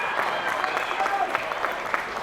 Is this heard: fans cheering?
yes